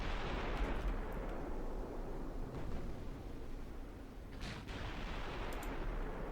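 Naval guns in Ultimate Admiral Dreadnoughts boom as heavy, dense rumbling blasts that roll continuously, with a couple of sharper reports standing out and no talk.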